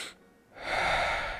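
A single deep breath, drawn in audibly through the mouth after a short pause, close and intimate, with no speech.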